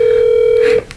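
A single steady telephone tone sounds loudly over a speakerphone for under a second, then cuts off abruptly into quiet line noise.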